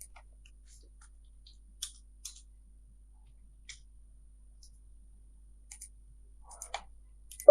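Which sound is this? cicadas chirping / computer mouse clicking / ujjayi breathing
computer mouse clicking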